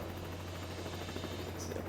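A helicopter in the Broforce video game drones with a steady low rotor hum, faint and constant, with light crackles of distant gunfire mixed in.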